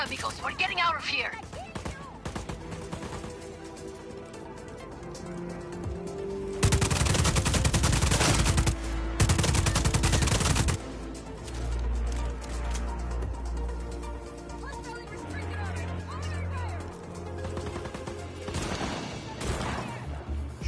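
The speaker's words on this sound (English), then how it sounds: "Shotgun. Nice." Shotgun fire in the video game Just Cause 4, loud bursts of repeated blasts over busy game sound, with a voice talking earlier in the clip.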